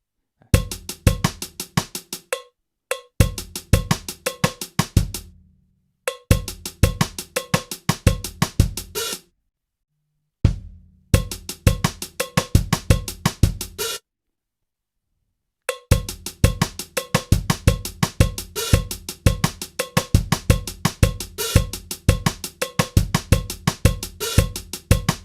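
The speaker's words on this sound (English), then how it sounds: "it might sound quite cool with a little cowbell part on it" A cowbell taps out a steady rhythmic pattern over a new song demo in short looped phrases, with brief silent gaps between the takes. It is struck bright and close.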